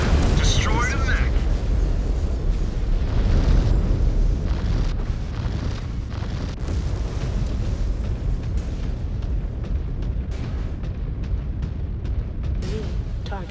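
A mech blows up in MechWarrior 5: Clans, a loud sustained rumbling blast with crackling debris and scattered booms that carry on through the whole stretch, with game dialogue mixed in.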